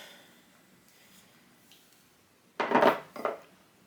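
Scoop scraping into firm homemade vegan ice cream in a container, a quiet lull followed by two short, crisp scraping clatters close by.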